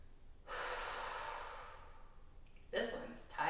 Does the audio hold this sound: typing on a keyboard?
no